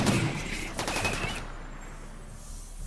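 Charge blasters firing in the video game RimWorld, rapid bursts of crackling automatic gunfire in two quick volleys that then fall away to a quiet background hiss.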